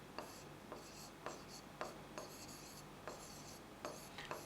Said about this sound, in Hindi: हम यहाँ लिख रहे हैं